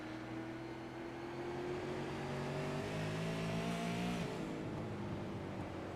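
Race cars howl around the South Boston track in a steady, distant roar, with several engines droning and shifting pitch as they pass during a race.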